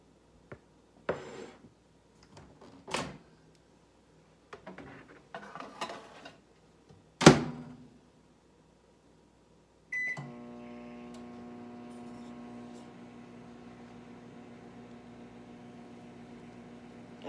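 A microwave heating peanut butter: a few clicks and beeps as the door shuts and buttons are pressed, then a sharp tone and the oven's steady humming drone that runs on evenly, nearby and with no voices.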